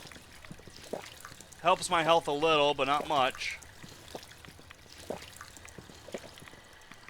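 Water pouring from a placed water fountain in Fallout 4 survival mode, a short gurgling pour of about a second and a half, loud and close, with talk before and after.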